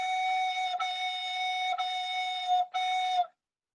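Recorder sounding a sustained F sharp in a beginner lesson, played as four clear held tones with brief breaks between them, alone and without talk.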